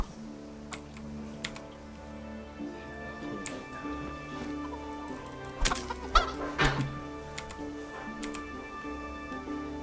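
Chickens cluck in the Kingdom Come: Deliverance video game, steady soft clucks over a droning ambient music bed, with a few louder clustered calls in the middle.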